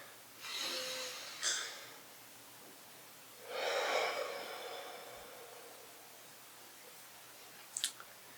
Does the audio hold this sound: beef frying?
no